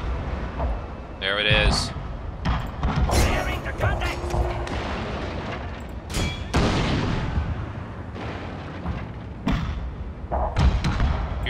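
Rapid musket volleys and cannon fire from a Total War: Shogun 2 battle, including a naval fight, with dense repeated booms and crackling shots throughout, loud and layered under a voice talking.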